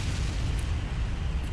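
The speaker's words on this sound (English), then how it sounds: "we have a magazine explosion and a flash fire" A ship's magazine explosion during a naval battle in Ultimate Admiral Dreadnoughts: a steady, heavy low rumble of blasts and rolling booms that fills the whole moment, with a couple of brief sharp crackles on top.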